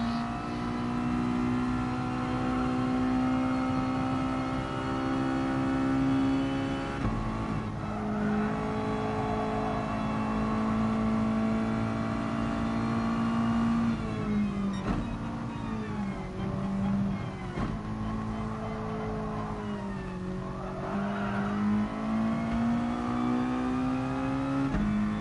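A race car engine in a Bathurst racing video game holds a steady high drone, revving and dipping through gear changes and corners across the lap, with no talk.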